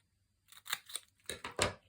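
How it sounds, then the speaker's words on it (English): Close, crisp snips of scissors cutting through paper card, a quick pair of cuts followed by three more in a short burst, quiet room with no talking. "Cut another one up."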